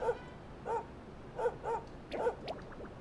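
A dog in the video game Dragon Quest XI S gives a few short, yippy barks and whimpers, spaced irregularly over a quiet background.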